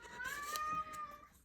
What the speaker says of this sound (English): Here comes my cat dragging her shoestring, which is her favorite toy.